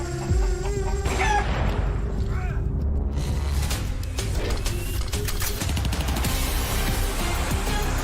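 A chicken clucks in Counter-Strike on the Inferno map during a pro match, short clucks mixed among loud game noise, mechanical creaks and clatter.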